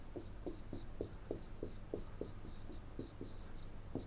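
Chalk or marker strokes scratch across a board in a lecture room, a brisk irregular run of short rubbing squeaks and taps over a steady low hum, close and fairly clear.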